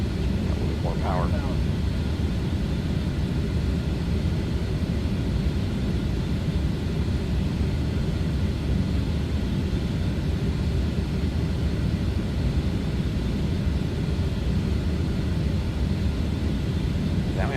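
Dassault Falcon 50 jet engines in a flight simulator spool up under added throttle, a steady, loud, broad roar that holds constant throughout with a faint tonal whine, and a voice briefly talking over it.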